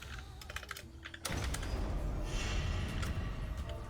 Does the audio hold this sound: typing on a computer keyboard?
yes